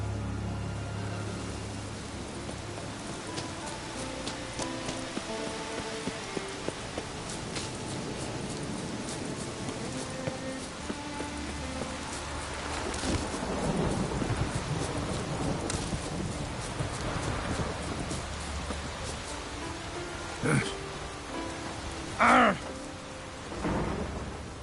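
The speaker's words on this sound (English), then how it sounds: "A storm, damn it." Steady heavy rain hisses throughout a thunderstorm in The Witcher 3, with low rumbling thunder rolling beneath and a few louder crackles near the end; no speech.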